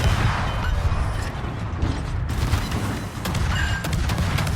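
Ship guns fire in World of Warships as a rumbling naval barrage. Heavy booms and rolling low thunder fill the whole stretch loudly, with mechanical clanks and sharp transients scattered through it.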